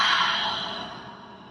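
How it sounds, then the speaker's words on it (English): A single big open-mouthed exhale during yoga breathing, a close, breathy rush of air that fades away over about a second and a half. "Take a big breath in. Open mouth, exhale."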